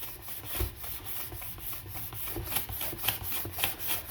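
Introductory-grit sandpaper rubbed back and forth over a Guarneri del Gesù model violin during polishing, giving soft, quiet scratchy strokes with a few sharper scuffs toward the end, close and without talk.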